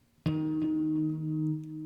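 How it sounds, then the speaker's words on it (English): A single guitar tap harmonic at the 12th fret struck once, ringing out as a clear, bell-like sustained tone that fades slowly. "giving me the tap harmonic right over the fret that I want to have the harmonic sound out"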